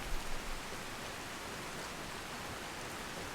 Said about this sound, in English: Rain occlusion, automatic